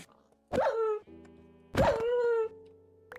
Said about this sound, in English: Bad dog.